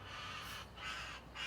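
A crow caws outdoors in nature, two or three harsh calls from a moderate distance over a faint, steady background hum.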